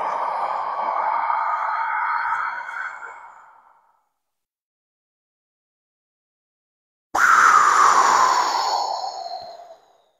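Two long, deep breaths drawn in and let out alone during a complete abdominal, chest and collarbone breathing exercise, each a smooth airy sweep of several seconds separated by a few seconds of silence.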